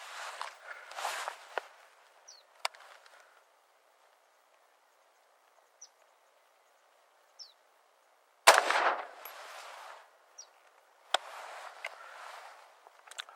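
AR-15 rifle fired from a standing position at 20 yards, a few loud sharp cracks spaced seconds apart with one big blast near the middle, outdoors with a faint ambient hum between.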